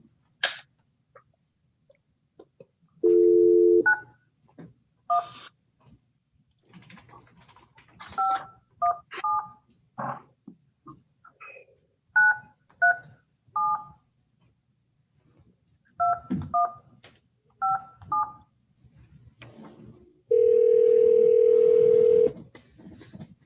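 Telephone keypad tones beep in short clustered sequences with longer steady dial-tone stretches, clear and isolated against near-silence, as phone numbers are dialed from a court meeting room.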